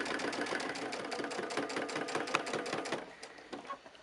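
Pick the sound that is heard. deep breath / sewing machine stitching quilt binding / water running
sewing machine stitching quilt binding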